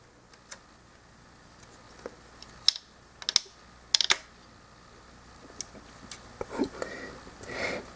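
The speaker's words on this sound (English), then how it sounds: "you're going to fold up the back piece until it all tabs in" Plastic pieces of a Mastermind Creations Ultio transforming toy being folded and tabbed into place, a scattering of sharp close clicks and snaps with quiet gaps between them.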